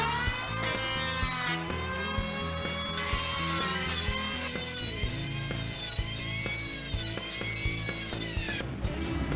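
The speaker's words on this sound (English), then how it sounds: "that's where I start planing again" A hand plane shaves wood along a homemade bow stave in repeated, even strokes with a woody scraping rasp, close and steady, with no voices.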